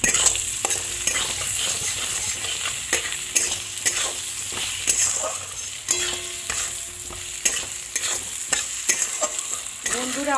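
Koi fish cooking with pumpkin greens in a pan sizzles and fries steadily for the whole stretch, with repeated clicks and scrapes of a spatula stirring at an irregular rhythm, close and fairly loud.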